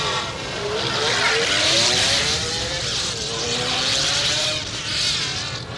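An animated cartoon car revs and pulls away with a rising, whining engine tone that climbs in pitch across the clip, loud and continuous, with a voice talking over it.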